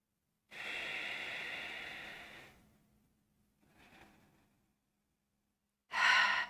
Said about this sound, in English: Let's take about 2 more breaths.